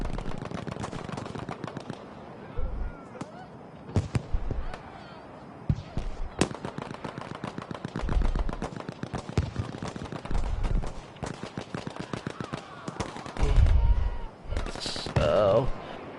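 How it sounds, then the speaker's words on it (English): A Lewis gun fires in a First World War-era online battle match, with rapid bursts of automatic fire among many other distant shots and explosions. Commentary runs over the gunfire throughout. "Master on the right hand side taking people out with his Lewis gun"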